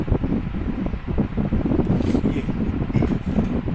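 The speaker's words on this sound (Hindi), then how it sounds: "थोड़ा सा हवा चल रही है जिस कारण यहाँ पर रुक नहीं पा रहा है" Wind gusting outdoors in a steady, broad rumble that buffets the microphone throughout, with no clear voices on top.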